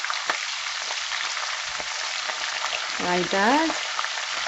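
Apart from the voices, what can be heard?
sauteing ginger and fresh jalapeno pepper in a pan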